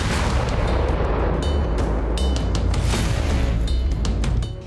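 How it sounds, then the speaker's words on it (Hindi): Heavy 1000 kg JDAM bombs strike a Russian army position in Kursk, producing a dense, continuous roar of loud booming blasts and rumbling detonations with sharp cracks layered throughout, sustained at high intensity. "कुर्स्क के त्योकटिक्नु में रूसी सेना के ठिकाने पर यूक्रेन ने JDAM बमों से हमला किया।"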